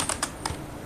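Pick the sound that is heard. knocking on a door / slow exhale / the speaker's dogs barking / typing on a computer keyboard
typing on a computer keyboard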